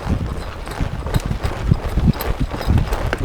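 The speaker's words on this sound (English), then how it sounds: "Spend a lot of time with my horses to travel and trot." Hooves of a 2021 APHA gelding clip-clop in a steady trot during a versatility and performance foundation exercise, a continuous rhythmic beat of close, moderately loud footfalls with no talking.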